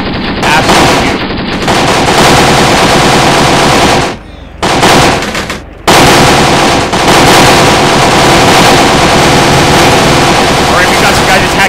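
Rifle and machine-gun fire from soldiers in the war strategy game Graviteam Tactics: Shield of the Prophet, loud dense bursts and volleys rattling almost continuously, with two brief pauses, under a voice.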